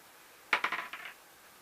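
Several dice clatter and rattle across a tabletop during a DreadBall game, a quick burst of overlapping clicks and bounces lasting about half a second before settling, close and clear with no talking.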